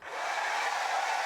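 A hair dryer runs steadily inside a camper van, drying bangs, a continuous close whooshing blow with no talk over it.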